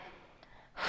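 A single deep exhale taken during a yoga flow, soft and close, drawn out after a brief quiet stretch and swelling to a breathy rush at the end.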